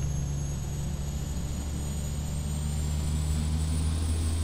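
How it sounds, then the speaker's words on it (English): Aircraft engines in the X-Plane 11 flight simulator produce a constant, loud drone with a low hum and a faint high whine, steady throughout and heard with no talking. "Let me know if the aircraft sounds are too loud, because this plane is probably a little bit louder than what we just got out of."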